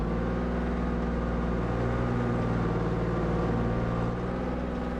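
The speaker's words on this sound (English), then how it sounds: "I just heard the engine come on as if he might drive" A vehicle engine idles steadily in a mechanized military video game, a continuous low droning rumble with layered tonal hum, fairly loud and unchanging throughout, with no voices.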